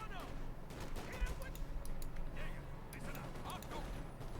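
Bursts of distant, rattling machine gun fire in the real-time strategy video game Company of Heroes 2 mix with other battle noise under steady commentary from a caster.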